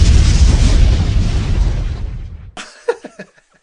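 Podcast hosts imitate an explosion with their voices, a loud rumbling burst of breathy noise that fades over about two seconds, then a few short vocal pops and sputters trail off, heard close with no words.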